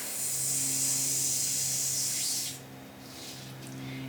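Air hissing out of an inflated 260 twisting balloon, a steady close airy rush for about two and a half seconds before tapering into softer, fainter hiss.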